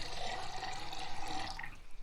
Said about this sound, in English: if I activate the pottery jar, right click the water and go to fill